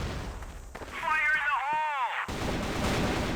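Gunfire and grenade blasts from a competitive video game match crack and boom in quick succession, with a descending whistling tone sweeping through the middle of the burst.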